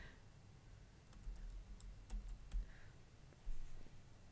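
Soft, faint clicking of a computer keyboard as a name is typed, scattered keystrokes in short irregular clusters over a quiet room background.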